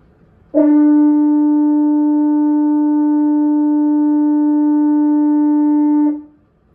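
A French horn holds one steady, mellow A note for about five and a half seconds, clear and close, then releases into silence.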